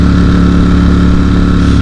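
A Ducati StreetFighter V4 motorcycle engine running close and loud, a steady low throbbing drone with a buzzy mechanical edge and no talk.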